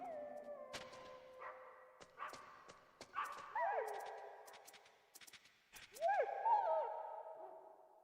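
A dog in a video game barks in several short bursts among other game sounds, set against a steady background, with voices present at times.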